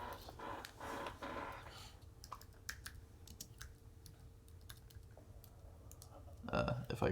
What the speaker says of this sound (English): Alex is going to type.